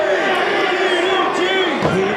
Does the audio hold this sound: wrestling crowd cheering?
yes